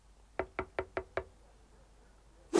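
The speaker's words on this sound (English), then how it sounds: "She knocks." Five quick, evenly spaced knocks on a door, crisp and fairly close, followed by a short silence and a louder thump at the end.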